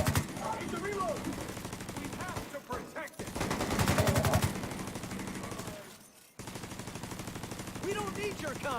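Enemy gunfire in the video game The Division 2: rapid automatic bursts crackle steadily at close range for several seconds, with brief gaps and some voices mixed in.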